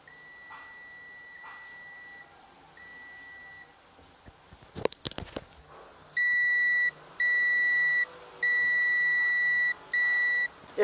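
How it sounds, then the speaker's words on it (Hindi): A digital multimeter in continuity mode with both probes touched together sounds a loud, steady electronic beep in four sustained bursts separated by short gaps, after fainter earlier tones and a brief clatter of handling. "दोनों प्रोब को हम एक साथ टच करेंगे तो बीप साउंड आना चाहिए"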